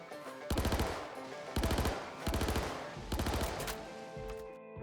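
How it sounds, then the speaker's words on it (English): The Klaus and Werner Lumin 5 laser SMG in Star Citizen fires four rapid five-shot bursts, each a sharp rattling volley separated by short pauses, close and loud. "It is a burst fire only laser SMG, firing 5 shots per burst from a 45 round magazine."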